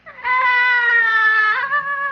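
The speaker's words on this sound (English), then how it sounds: "it kind of sounded like a cat from the CBS Radio Mystery Heard Theater" A single long, loud, wavering cat meow in an old-time horror radio drama, with a clear drawn-out tone that bends slightly before trailing off, alone without voices.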